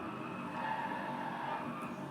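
A car drifting in the Driveclub racing game gives a steady, sustained tire skid with engine drone, moderately quiet and continuous for a couple of seconds, with no talking.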